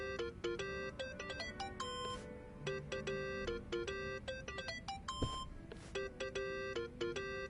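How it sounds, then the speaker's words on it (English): A mobile phone rings in the video game Yakuza: Like a Dragon, playing a repeating electronic melodic ringtone of bright tones in steady phrases for several seconds, without talking. "Think that's your phone, man."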